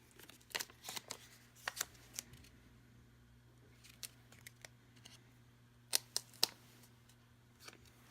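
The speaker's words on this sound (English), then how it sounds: "Let me just cut that little piece off there" Scissors snip a small piece of Tyvek at a craft table, giving sharp, quiet clicks in scattered clusters with pauses between them, close by and alone.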